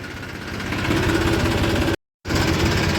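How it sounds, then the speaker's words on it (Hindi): A vehicle engine idles steadily and then revs slightly as it is shifted into reverse gear, a close, even mid-pitched drone that cuts out briefly before resuming. "बैक गियर में लगा लेते हैं।"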